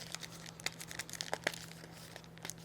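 Gift wrapping paper being torn open, with close crinkling rustles and a few sharp ripping bursts over a steady low hum.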